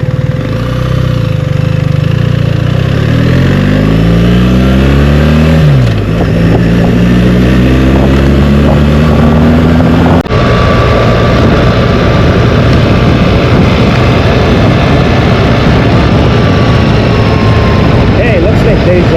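A BMW 1300 GS Adventure motorcycle rides on the road with loud engine drone close by, pitch rising and falling through gear changes, and steady wind and road roar once at speed.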